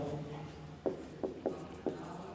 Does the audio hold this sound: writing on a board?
yes